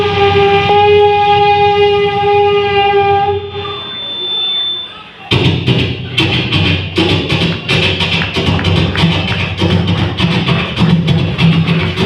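A voice imitates a train in mimicry, first a sustained whistle-like tone that fades, then a loud rhythmic chugging of rapid repeated bursts that continues to the end.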